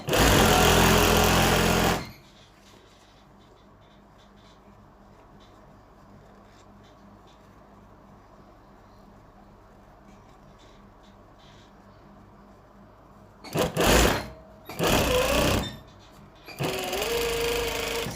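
Sewing machine stitching fabric for a baby nest, mostly a steady low whir with a few loud close bursts of running stitches at the start and near the end.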